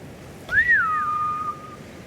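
A single rising-then-level whistle calls a samurai's horse in the Ghost of Tsushima game, clear and fairly loud against a quiet background with no talk.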